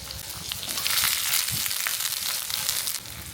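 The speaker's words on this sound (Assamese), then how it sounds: "আপুনি প্ৰথমতে দিম তেল, প্ৰথমতে দিছোঁ পিঁয়াজ, তাত দিছোঁ জলকীয়া" Onions and chillies fry in hot oil with a steady, close sizzle and crackle, with faint stirring scrapes and no talking.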